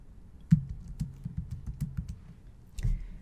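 Light tapping on a computer keyboard, a brief scattered run of keystrokes, quiet and close, with pauses between bursts and no talking.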